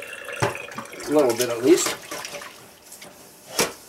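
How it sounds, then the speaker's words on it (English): Hot tap water runs into a new Mandarin wok while a person speaks briefly over the steady pouring and splashing. "Put some hot water in."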